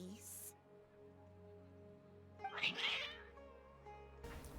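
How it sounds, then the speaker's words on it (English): Cats meowing in Genshin Impact, a drawn-out meow in the middle and short cries at the start and end, faint over a soft game music bed. "Cats."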